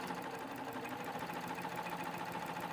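A serger sewing machine stitches the last threads of fabric for a DIY witch hat, giving a steady, continuous mechanical whir with a rapid rhythmic chatter that holds at an even level throughout.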